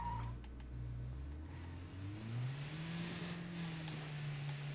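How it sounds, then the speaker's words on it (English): A scout car in the State of Decay 2 video game drives off, its engine note climbing steadily in pitch as it accelerates, a moderate mid-range hum with faint background noise and no talking. "let's go take a ride in this scout car"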